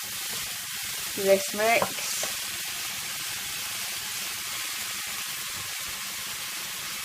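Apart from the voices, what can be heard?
milk mixture poured into a cooking pan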